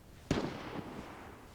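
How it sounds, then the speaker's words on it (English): A single sharp gunshot rings out in the Vigor video game, fairly close, with a sudden crack followed by a rolling echo that fades over about a second. "And then you hear another gunshot behind me to my left."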